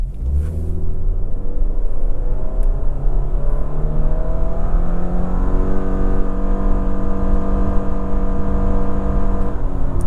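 2024 Subaru Crosstrek Limited pulling away normally from a stop, engine rumble rising steadily in pitch through the gears as it accelerates, heard from inside the cabin, loud and continuous with no talking.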